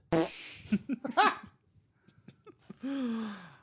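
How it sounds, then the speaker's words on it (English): Close and loud farts: a few short sputtering bursts, a quiet gap, then one longer drawn-out blast that falls in pitch, with no talk. "Oh, farts."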